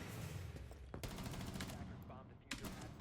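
Gunfire bursts through a wall during a Rainbow Six Siege esports match, Bank map, with rapid sharp shots in clusters over a dense, busy game background, louder cracks near the start and end.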